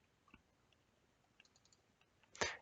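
Faint scattered clicks from a computer mouse, ending in one sharper, louder click, in an otherwise quiet room with no talking.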